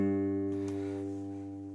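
A guitar chord rings out with the thickest low E string fretted at the third fret, a sustained steady tone with a slight pick attack midway, close and fairly quiet, no voice.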